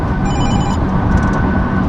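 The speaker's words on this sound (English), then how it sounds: "I got a phone call coming in" A phone rings with an incoming call inside a moving car: a short electronic ring burst over a steady engine and road rumble.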